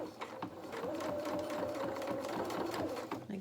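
A sewing machine runs steadily across a fabric seam on a small doll's dressing gown, a continuous close mechanical whirr with quick stitching rhythm, brief starts and a slight speed change near the end.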